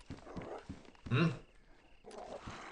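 A single short, low growl from an animal in the survival video game DayZ, set in Livonia, rising briefly at mid-clip between soft footstep-like thuds, with faint quiet noise around it.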